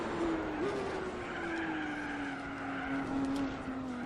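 A race car's tires skid and squeal under late braking in Gran Turismo 4 on the Nürburgring, a long sustained squeal that slowly falls in pitch over a steady engine roar for about four seconds.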